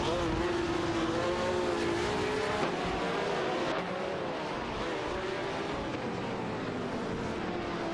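A racing car drives away at speed in a continuous loud engine roar, with a pitch that rises and falls as it runs up through the revs, mixed with steady track noise.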